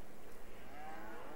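Cows moo in Farming Simulator 22 as a short, low, close bellow over a steady background hum, with no talk.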